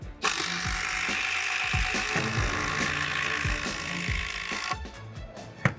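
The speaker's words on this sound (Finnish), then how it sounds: "Samaan puuhun molemmat ruuvaa ja tiukka materiaali, kuiva puu, mihin ruuvataan ja lähdetään kokeilemaan" A DeWalt cordless screwdriver drives a screw into a dry glulam beam, giving a steady close mechanical whir with a rhythmic ratcheting clack that stops abruptly near the end.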